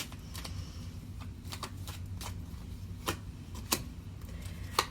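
Tarot cards are shuffled and drawn in a steady rustle of riffling with a few sharp snaps, close and fairly quiet, with nobody speaking.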